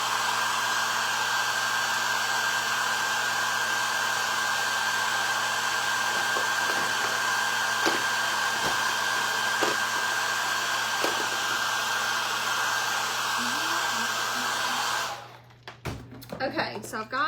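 A handheld hair dryer blows steadily on fresh paint on a painted wooden scarecrow sign, a loud continuous whine and rush that cuts off near the end, leaving faint handling noises.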